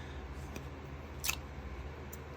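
A single quick snip of scissors cutting quilt fabric, close and crisp, in an otherwise quiet room with a low steady hum.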